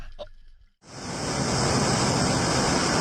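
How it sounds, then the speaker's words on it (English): Extreme storm waves in the North Sea, whipped by roughly 100 km/h winds; after a brief quiet gap a loud, dense roar of crashing water and wind surges in and holds steady. "Extreme waves are hitting the North Sea, reaching heights of 10 to 20 metres with wind speeds around 100 kilometres per hour."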